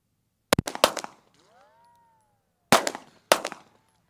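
Pistol shots at a marksmanship range, fired one-handed with a full grip: a sharp close shot and its echoes, a pause with a faint ringing tone, then two more loud cracks a fraction of a second apart.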